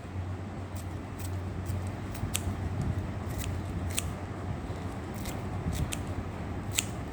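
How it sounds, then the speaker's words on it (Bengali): A knife finely chopping jute leaves on a cutting surface, with quick crisp cutting ticks in an irregular rhythm over a low steady background hum. "তাহলে আমি পাতাটাকে কুচি কুচি করে কেটে নিব।"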